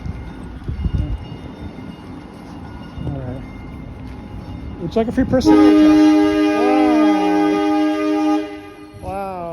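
A passing train's loud horn blares steadily for several seconds and drowns out someone talking, with rumble from the rails underneath that fades as the horn stops.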